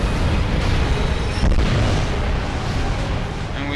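An airship explodes in the video game Drakengard, a dense, loud rumbling blast that roars continuously for several seconds with crackling bursts layered over it.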